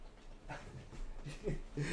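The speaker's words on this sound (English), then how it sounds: "And here's my dog Jackson." A dog named Jackson pants and lets out soft whimpers, close and quiet, in brief uneven breaths.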